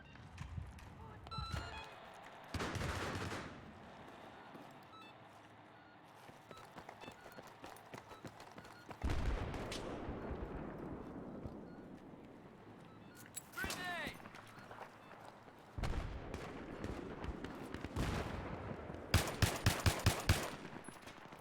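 Gunfire in a shooter video game, sniper rifle shots such as the SVD, heard as bursts of loud bangs and rapid volleys scattered through busy game noise and footsteps, with a player talking over parts of it.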